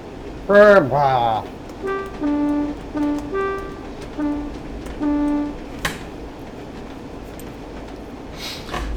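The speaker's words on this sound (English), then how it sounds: "that's my fail horn" Two-tone train horn in the Train Sim World game on the Northern Trans-Pennine route, a quick pair of blasts followed by several short alternating toots, clear and prominent over a low rumble, with a thump near the end.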